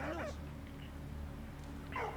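A dog's short whimpering yips and soft barks in the video game Valiant Hearts: The Great War, faint and quiet, one at the start and another near the end over a low ambient hum.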